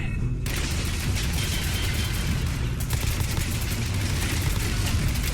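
Turret gunfire in a heavily modded Fallout 4 survival run rattles in dense, continuous bursts from several directions, loud and close, with booming impacts layered under the steady rapid fire and no talking.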